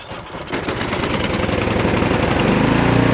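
A snowblower engine catches and starts, sputtering briefly before settling into a loud, steady mechanical run that builds slightly in strength, close by and with no talking.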